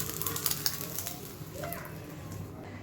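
Food frying in a pan for an egg and peas curry, a steady close sizzle that carries under a few light clinks and someone speaking.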